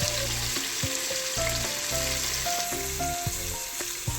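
Sliced onions deep fry in a pan of hot oil for tomato bath, giving a loud, continuous close-up sizzle with a faint tonal melody running underneath.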